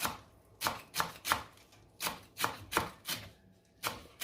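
A sharp knife chops parsley in a steady run of about a dozen crisp board strikes, close and fairly quiet, with a few slight pauses between cuts.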